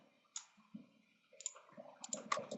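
A computer mouse gives a few sharp clicks, sparse at first and then in a quicker cluster, close by in a quiet room with no voices.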